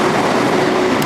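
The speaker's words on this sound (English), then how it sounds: "So the train passes by there" A train rolls past steadily, a loud continuous rumble of wheels on rails with a sustained tonal hum and a brief bright squeal near the end.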